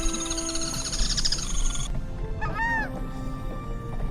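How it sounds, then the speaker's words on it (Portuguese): Wetland birds call at dawn in the Iberá marshes, a dense chorus of sustained whistles and honking calls, then a few clear rising-and-falling cries stand out against the steady background din. "400 espécies de aves por aqui. Além de ser deslumbrante de ver, é delicioso de ouvir."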